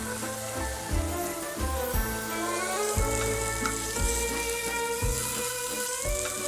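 A thick beef fillet sears in a preheated hot pan, with a steady sizzle and fry crackle running throughout, close up and continuous, while background music plays and nobody speaks.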